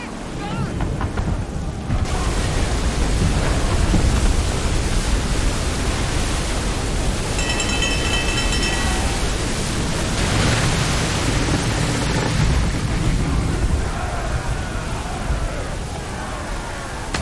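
A storm roars through the Assassin's Creed 3 game at sea, a continuous loud wash of rain and wind with deep rumbling swells lasting throughout, with no talk heard.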